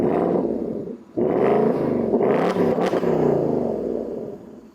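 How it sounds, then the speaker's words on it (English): A 2025 Ford Mustang GT Dark Horse V8, revved remotely from the key fob while parked, gives two loud, deep roaring revs close by, with a brief dip between them and a rumbling settle at the end. "But you can remote rev it with the key fob"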